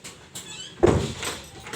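A door creaks and thumps as it opens or shuts indoors, a soft squeak followed by a louder knock-like burst near the middle, then fading.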